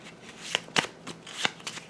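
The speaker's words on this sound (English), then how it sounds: "Shuffled and done." A deck of game cards for Cthulhu: Death May Die is shuffled up close, a few quick riffling bursts in a quiet room.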